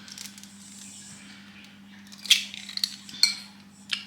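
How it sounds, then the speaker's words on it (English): Eggs and golden caster sugar are mixed in a bowl for reduced-sugar brownies: soft stirring punctuated by several sharp clinks of a utensil against the bowl, close and with no talk. "the next step is to mix some eggs and sugar"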